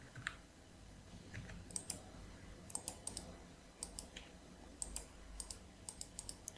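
Quiet, close mouse clicks at a computer desk while working in Blender, scattered single and double clicks with short pauses over a low room hum, no speech.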